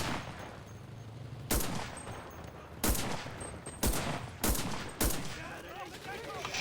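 Five or six sharp, evenly spaced gunshots from a limited-capacity gun in the World War II shooter Enlisted, each crack loud and distinct over a steady background of battle noise.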